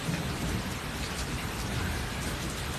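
A storm of heavy rain with thunder in Paradise sounds as a dense, steady wash of falling rain over a deep, low rumble, continuous and fairly near, with no voices.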